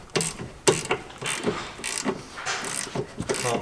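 A ratchet wrench works on car suspension while lowering springs are fitted, a series of sharp clicking bursts in an uneven rhythm, close and fairly quiet, with no talk.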